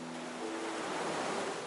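Ocean surf from the game Honkai Star Rail: a steady, broad wash of waves rolling in with a soft breezy hiss, continuous and moderately loud, with no talking over it.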